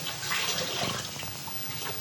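Tap water running over rice being washed in a kitchen sink, a steady rushing splash with slight fluctuations, heard close and alone for about two seconds.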